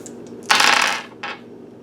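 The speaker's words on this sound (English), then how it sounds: "I'm going to just do the dice before" Dice rattle and tumble onto a surface during a tarot reading: one loud clattering burst lasting about half a second, followed by a shorter, softer rattle as they settle. No voices.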